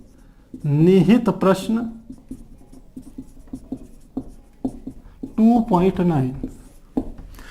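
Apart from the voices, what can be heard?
writing on a board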